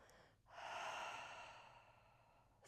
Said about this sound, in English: Open your mouth, big exhale